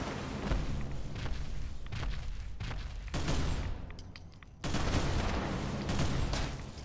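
Rapid gunfire from the modded video game Fallout 4, with dense overlapping shots and booming bursts that come in loud waves, briefly ease off, then surge again.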